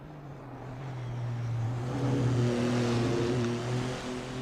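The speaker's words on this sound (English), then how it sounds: "So we got a few cars now finally getting out on track" GT3 race cars leaving the pits for qualifying at the SUGO circuit in a racing game: a steady, buzzing engine drone that swells and rises in pitch as a car pulls away, with no talk over it.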